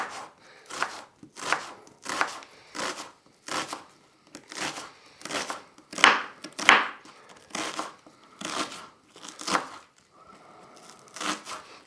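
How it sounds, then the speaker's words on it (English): A knife chops an onion finely on a cutting board with a steady series of crisp, distinct strokes, about one every half second, loud and close with no talking over them. "I want the onion cooking nice and fine, or slicing nice and fine, so we'll do that."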